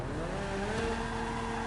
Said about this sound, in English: So you want to get back in the car, drive it back into the MOC